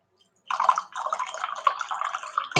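Black coffee pours into a cup in a steady, close, trickling stream that starts abruptly after a moment of silence and runs to the end.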